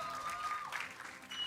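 Live esports crowd at a League of Legends LCS match between Cloud9 and 100 Thieves cheering and clapping in a sustained, moderately loud wash, with a commentator's voice riding over it.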